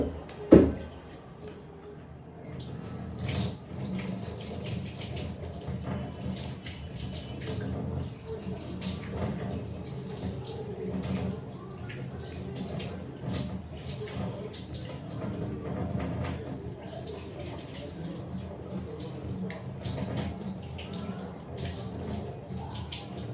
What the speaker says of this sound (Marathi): मटण धुते. दे धुवून लवकर.